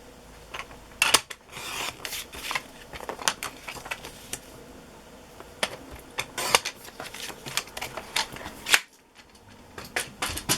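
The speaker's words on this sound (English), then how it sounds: "I'll cut this before I stamp it" Scissors snip through a paper tag for a Christmas journal, giving a run of crisp cutting and rustling sounds at close range, irregular and moderately quiet, with no talking.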